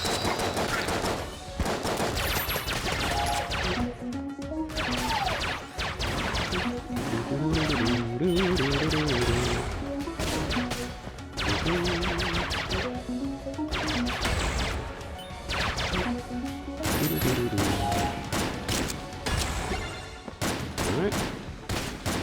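Rapid gunfire from the video game Exit the Gungeon, dense continuous volleys of shots with crashing impacts layered over game music for most of the stretch, with a few brief gaps.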